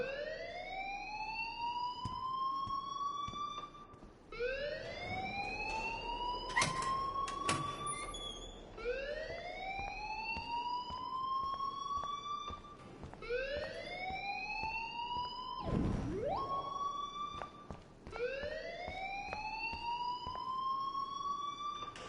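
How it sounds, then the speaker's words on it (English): A rising, wailing alarm in the video game Life is Strange repeats in loud, even cycles of about three seconds each, with a few sharp bursts and a brief downward sweep, and no talking. "please turn off that alarm since that's your job"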